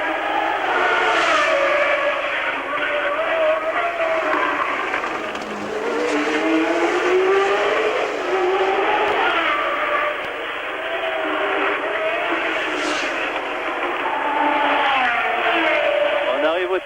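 Formula 1 race cars howl past at the 1981 Monaco Grand Prix, a continuous high engine wail with rising and falling pitch sweeps as cars pass, loud and sustained throughout.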